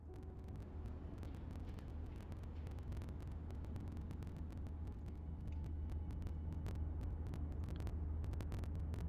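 Dense road traffic and a traffic jam in the city-building game Cities: Skylines 2, a steady low rumble of many vehicles with scattered clicks and air-brake hisses, continuous and even with no voices.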